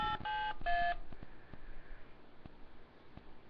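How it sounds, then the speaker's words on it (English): Three short DTMF keypad tones sound in quick succession while a host PIN is entered on a phone line, followed by a quiet line with faint clicks and no talk. "Please enter your host pin when finished."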